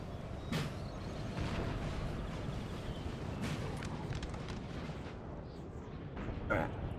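Artillery guns of a Napoleonic battle at Auerstedt, including Prussian 12-pounders, firing back and forth in a war game: scattered dull booms at a distance over a low rumbling battlefield bed, fairly faint.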